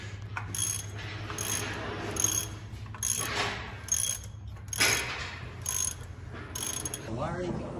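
Ratchet wrench clicking in regular bursts while working on a Duramax engine, a rapid pawl rattle repeated about a dozen times at close range over a low steady hum.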